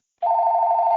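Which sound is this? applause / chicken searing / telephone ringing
telephone ringing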